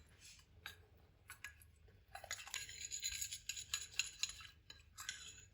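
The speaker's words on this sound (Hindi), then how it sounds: "अच्छी तरह हम मिक्स करेंगे।" A spoon stirring a rice face mask mixture in a small bowl, soft scraping at first, then a steady run of quick clinking and scraping strokes, close and quiet, with no speech.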